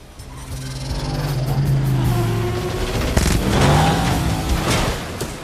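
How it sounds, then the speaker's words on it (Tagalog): A car smashing through a barrier at a short tunnel on a narrow road: a loud, close engine roar with rumbling and whooshing builds, and sharp impact bursts near the middle of the clip. "Matapos wasakin ni Bud ang harang ng lagusan gamit ang kanyang sasakyan"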